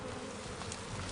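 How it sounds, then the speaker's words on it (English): Dense, steady buzzing of many honeybees swarming around an open Langstroth hive during a field-day inspection, a close continuous hum with no talk over it. "There's a lot of bees there."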